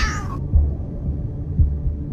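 A summoned cat in the Solo Leveling game gives a short, loud, close meow with a falling pitch that cuts off abruptly, followed by low rumbling background throbs.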